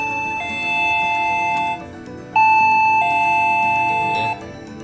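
An access control keypad's doorbell rings electronically when pressed: two loud sustained two-tone chimes, each holding a steady pitch for over a second before stepping down, close by with no talking.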